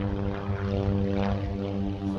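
A Mokulele Airlines propeller plane in old Southern Airways Express colours at Honolulu airport drones steadily, its propeller hum a strong continuous buzz, fairly close and alone without talk.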